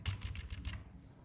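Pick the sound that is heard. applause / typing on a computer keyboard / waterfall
typing on a computer keyboard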